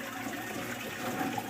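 Water flowing into a gravel and lava rock grow bed and draining toward a sump tank in a bioshelter, a steady close gushing rush over its short length, no talk.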